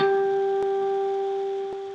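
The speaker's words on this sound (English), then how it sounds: "you're going to end it by hitting a harmonic right here on the 12th fret" A single bell-like guitar harmonic on the 12th fret of the G string rings out clear and steady, with faint string taps partway through, slowly fading, alone.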